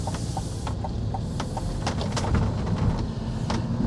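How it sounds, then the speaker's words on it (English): A 2024 GMC Hummer EV 3X pickup rolling over railroad tracks, a steady low cabin rumble with a scattering of sharp knocks and thumps as the wheels cross the rails, heard from inside with no talking. "let's listen as we go over the railroad tracks"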